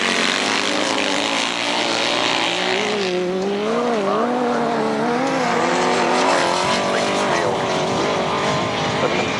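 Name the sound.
grasstrack sidecar racing engines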